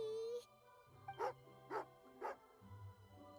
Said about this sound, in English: Oh, husky. Angry doggy.